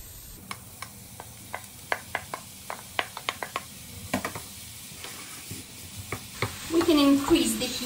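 Ground beef frying in a pan for lasagna bolognese with celery and carrots, scraped and stirred in repeated sharp clicks of a utensil over a steady sizzle that swells louder near the end.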